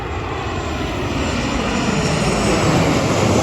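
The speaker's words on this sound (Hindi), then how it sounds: "वो बेसिकली जहाज़ लैंड करने वाला, तकरीबन फ्लाई दुबई की फ़्लाइट आ रही है" A flydubai airliner comes in to land at Faisalabad International Airport. Its engines make a loud, steady roar that stays close and grows slightly over several seconds, with no talking.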